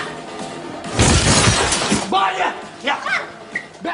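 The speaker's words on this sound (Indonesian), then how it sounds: "Saat sedang melarikan diri, Bisma tidak sengaja menabrak pintu kaca sampai pecah" A glass door shattering as a boy crashes into it in a film scene, a loud bright burst of breaking glass followed by shorter crashes and shouting voices.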